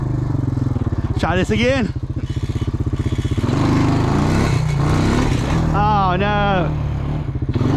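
Old Honda four-wheeler ATV out mudding, its engine chugging close and loud, revving in rising bursts, with someone talking over it.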